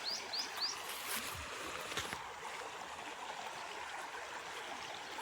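A river in a block-building video game flows with a steady, close, gentle rush, and a few soft chirps sound near the start.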